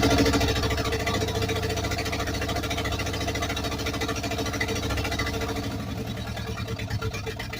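A small carbureted gasoline engine runs steadily at a loud, close idle, its low throbbing pulse continuing throughout with a slight change in tone near the end.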